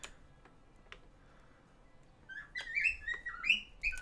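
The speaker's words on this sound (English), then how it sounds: "And the bird's awake." Near-silent indoor quiet with a few faint ticks gives way to a bird waking up and chirping, with a quick cluster of bright tweets in the last couple of seconds.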